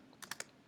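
Short burst of three quick keystrokes on a computer keyboard, close and quiet, alone with no talking.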